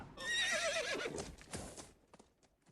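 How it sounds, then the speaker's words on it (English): A horse whinnies loudly and close, a long shrill neigh that falls away, followed by a few scattered hoof clops as a sound effect in an Arthurian story about horses across a river. "Then they heard horses across the river."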